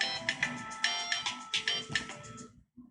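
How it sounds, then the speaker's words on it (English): Mobile phone ringtone plays a repeating chiming melody in short rhythmic pulses, fairly close, then cuts off. "Whoop, my phone."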